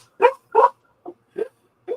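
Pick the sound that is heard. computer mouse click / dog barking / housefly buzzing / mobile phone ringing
dog barking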